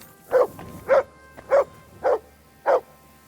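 Mutt the dog barks in the video game Kingdom Come: Deliverance 2, five clear, evenly spaced barks close by over a quiet background, with nobody talking.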